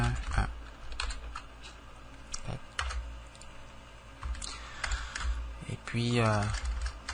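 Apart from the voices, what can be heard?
typing on a computer keyboard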